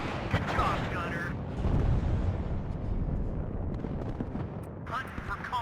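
Tank guns fire in a WARNO battle, heavy rumbling booms and blasts filling the scene continuously, with radio voices talking over the combat.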